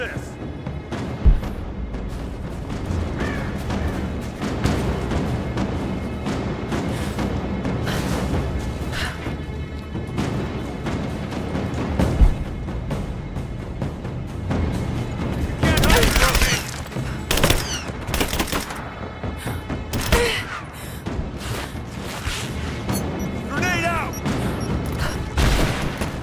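Rapid bursts of video game gunfire from Rise of the Tomb Raider, with fusillades and heavy impacts sustained across the scene, peaking in loud sharp volleys midway, while voices talk over the shooting.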